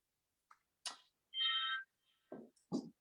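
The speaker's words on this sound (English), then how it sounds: "You have to excuse our salon phone ringing" A salon telephone gives a short electronic ring tone, clear and steady for under half a second, set among a few faint, scattered clicks and rustles in an otherwise quiet room.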